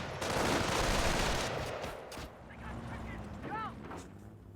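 Machine gun fire in the WWII strategy game Company of Heroes 1 comes as a dense burst of rapid shots, then fades into scattered battle noise.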